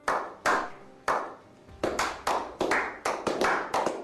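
Applause-style hand clapping in a Turkish talk segment, heard as a dozen or so sharp, separate claps in an uneven rhythm, fairly close and alone with no speech over them.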